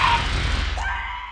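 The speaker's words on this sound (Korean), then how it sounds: "공포에 질린 그녀의 비명이 쇼핑몰에 울려 퍼지자" A woman screams in horror in a shopping mall in a film, a loud shrill cry that falls in pitch and fades over about a second, over a low rumbling background.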